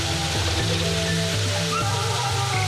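Steady rushing roar of a 25-metre river waterfall, the Mujer del Encanto, loud and continuous throughout, with a low music-like tonal bed running beneath the water noise.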